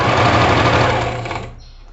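A sewing machine runs steadily as it sews a backstitch seam through fabric on a beginner's practice piece, a loud, dense motorized whir that fades and slows to near stop in the final half second.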